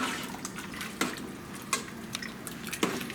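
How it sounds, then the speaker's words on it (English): Green tomato chicken chili simmering in a pot, soft irregular bubbling pops and small plops at close range over a quiet background hiss. "we can just let this simmer now"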